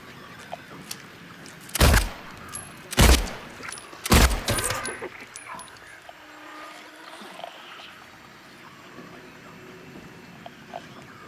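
Three loud, sharp gunshots in the video game Silent Hill 2, spaced about a second apart, followed by a quieter ambient game backdrop with faint scattered sounds.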